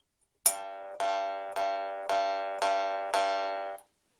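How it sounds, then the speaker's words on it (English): Jaw harp in the key of G, its twanger plucked repeatedly to give one bright metallic tone, six evenly spaced twangs each ringing and decaying, close and alone. "hit this twanger, and it makes one tone like that"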